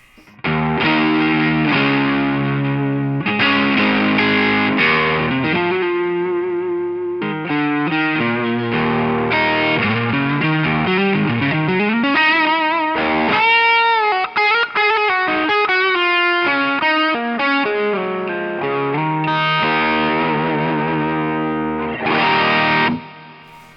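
An electric guitar runs through a Strymon Riverside drive pedal set for higher gain with the EQ at noon, playing crunchy classic-rock chords and sliding lead lines, thick and distorted, continuous and upfront with no talk.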